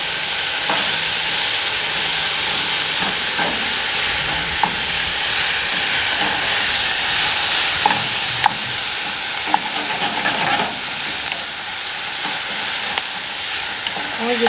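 A tomato sauce with garlic and fresh parsley simmers and sizzles steadily in a pan, a continuous close bubbling hiss broken by occasional soft pops and stirring clicks.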